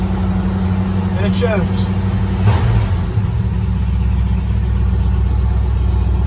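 A car engine with a Motorcraft carburetor idling after a cold start, 47,000 original miles, a steady low rumble running continuously under a man's brief speech.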